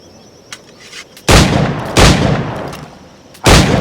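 Three loud, close pistol gunshots in Assassin's Creed IV Black Flag, each a sharp broadband blast with a short decaying tail, spaced unevenly with a longer gap before the last, over faint background ambience.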